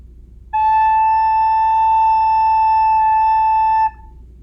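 A single clear, pure recorder note A held steadily for about three seconds, bright and breathy, played alone against quiet background.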